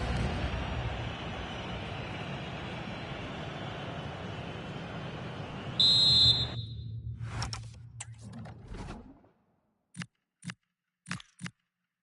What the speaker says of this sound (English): the whistle is sounded for